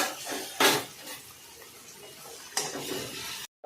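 Garlic and ginger paste is stirred in hot oil in a pan with a utensil, giving a couple of louder metallic scrapes against a steady soft sizzle, close by and with no talk.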